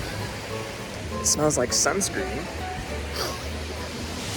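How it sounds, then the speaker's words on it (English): Ocean surf crashing on Waikiki beach in Honolulu forms a constant broadband wash in the background, while someone talks over it in the foreground. "The sounds of crashing waves."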